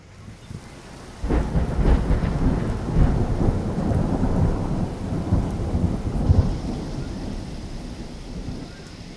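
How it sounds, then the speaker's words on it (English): Steady rain pours down with deep rolling thunder rumbling through, loud and close, the downpour continuing throughout. "Start raining."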